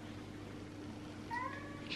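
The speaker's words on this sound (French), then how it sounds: "elle miaule, elle miaule, elle miaule" A cat gives a short meow, faint and brief against a steady low background hum, near the end of the moment.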